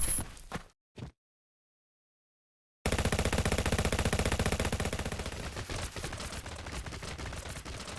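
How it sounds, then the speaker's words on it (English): Robots firing guns in a sustained, rapid automatic burst after a couple of brief clipped shots and a moment of silence, loud and dense, rattling on without pause. "They're firing with everything they've got."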